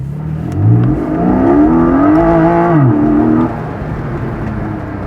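A Porsche Boxster GTS 4.0 engine pulls hard under acceleration while driving, a loud close drone whose pitch climbs, holds steady, then drops as it eases off.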